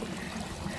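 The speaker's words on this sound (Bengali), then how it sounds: "এখন যেহেতু গ্রীষ্মকাল তাই জলপ্রপাতে জল কম আছে" Ghagra waterfall in Belpahari runs at low summer flow, a soft, even rush and trickle of water heard close by with no voices.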